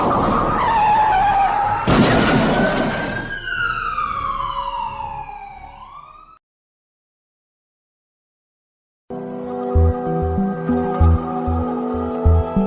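A car skids while aquaplaning on a wet road, a loud tire screech with a squishing slide that sweeps down in pitch and fades out, followed by silence and then a separate pulsing musical passage.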